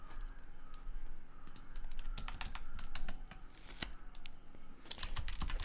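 Steady typing on a computer keyboard while writing code: quick runs of crisp key taps, close and fairly loud, with brief pauses and no talking.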